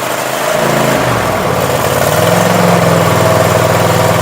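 A Kohler engine on a zero turn mower cranks briefly and catches, then settles into a loud, steady idle with a continuous droning rumble close by.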